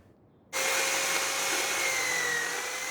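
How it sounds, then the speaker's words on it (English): A drill starts abruptly and bores into an old timber main beam, its loud, steady whine running without pause after a quiet opening, with a pitch that sags slightly as the bit bites deeper into the wood. "we were now going to drill holes in their main beam"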